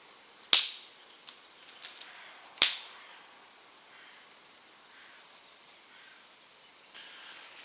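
Two sharp rifle shots from a Ruger 10/22 Takedown fired about 40 yards away outdoors, each a crisp distant crack with a short decaying tail, spaced about two seconds apart, then quiet ambience.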